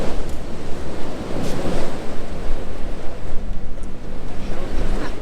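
Ocean surf rolling in at Bali, a loud continuous wash of waves with wind buffeting the microphone, close and steady with no clear speech.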